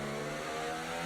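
Steady high-pitched whine of a McLaren race car engine at speed in a racing video game, continuous and loud with no talk over it.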